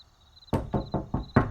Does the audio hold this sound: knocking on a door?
yes